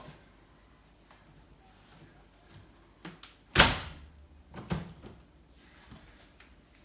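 A door is shut on a knotted towel wedged in its frame, producing one sharp thud followed by a few softer knocks and rustles in a quiet room.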